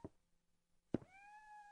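A kitten in the video game Shadow of Destiny gives a drawn-out, steady meow right after a soft knock, faint and alone in a quiet room.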